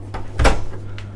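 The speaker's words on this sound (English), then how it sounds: "I've not been through and shut all the doors as I normally do" Cabin doors on a Princess V65 yacht shut with one firm thud in the middle, framed by a couple of softer knocks, close by over a steady low hum.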